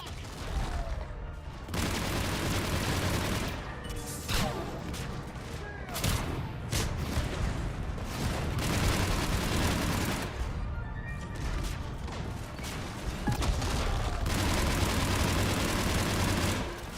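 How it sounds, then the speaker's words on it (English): Mech fight in Mass Effect 3 Legendary Edition: dense, nearly unbroken gunfire with heavy explosions and booms stacking loudly on top of one another throughout. "How I do enjoy watching mechs explode."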